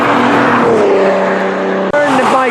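A truck engine revving close and loud, a sustained roaring drone with shifting pitch that cuts off briefly and then surges again.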